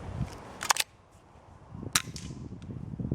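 An FX Verminator MK1 Tactical .22 air rifle on low power fires two quiet, sharp cracks about a second apart, each a brief snap followed by faint mechanical clicks, heard close outdoors without talk.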